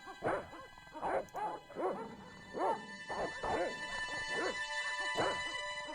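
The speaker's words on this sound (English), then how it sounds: "I think there are dogs." Dogs bark in the video game Broken Sword, a run of short, evenly spaced barks and yips over a faint steady electronic hum, moderately close with no talking.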